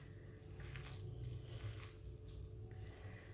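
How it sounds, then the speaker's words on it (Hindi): Water poured in a small amount into a cooking spinach and chicken dish, a steady wet splashing and sizzling wash close by, continuous throughout with no talk. "अब इसमें पानी डालेंगे थोड़ा सा, ज़्यादा नहीं डालना"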